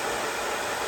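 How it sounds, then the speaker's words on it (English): A bonnet hair dryer runs at home with a chin strap fastened, giving a constant loud airy whoosh with no breaks or voices. "I actually spent 45 minutes under the dryer"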